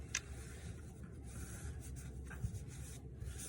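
A paper towel is folded over and over for a homemade mask, giving soft close rubbing and crinkling with a couple of sharper creases, quiet and without talk.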